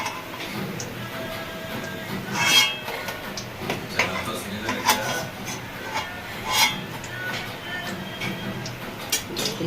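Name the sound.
fried soybean pakoras being put onto a plate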